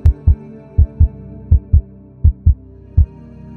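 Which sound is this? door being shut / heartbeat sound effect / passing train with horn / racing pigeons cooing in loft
heartbeat sound effect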